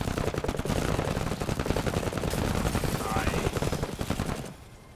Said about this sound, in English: Hopefully you can also shoot these guys if we can kill it with this shot.